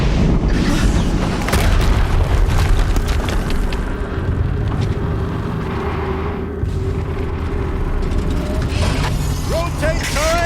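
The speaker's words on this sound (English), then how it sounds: "explosion." Heavy booming blast with low rumble in Horizon Zero Dawn, loud and sustained across the scene with mechanical clatter and game effects, no talk.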